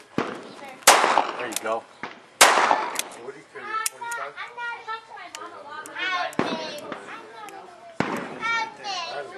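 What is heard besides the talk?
revolver gunshots at CCW qualification range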